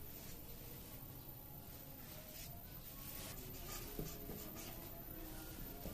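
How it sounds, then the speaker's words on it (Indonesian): A marker pen writing on paper, soft squeaky strokes and rubbing in short repeated bursts, close and faint, with no talk. "Keterangannya akan kita tulis menggunakan spidol."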